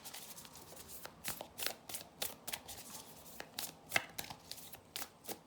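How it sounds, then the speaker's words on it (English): Tarot guidance cards being shuffled by hand, a series of crisp riffling snaps about every half second, close and fairly quiet with no voices. "So let's pull some guidance cards."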